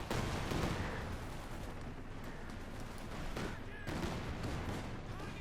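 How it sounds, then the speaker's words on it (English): Company of Heroes 2 battle gunfire, dense overlapping bursts of rifle and machine-gun fire with heavy thuds of artillery, loud and continuous throughout. "Shots fired."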